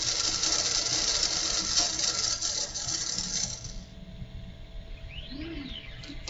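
A DoBot robot arm runs its program with a steady, rattling mechanical grinding that fills the first few seconds, then eases off to a quieter whir with a few faint motor sweeps near the end.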